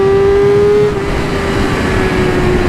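A 2020 Yamaha R6 four-cylinder sport motorcycle engine revving hard, a loud, steady high-pitched howl that holds close and intense throughout, with a slight shift in pitch partway through, no talking.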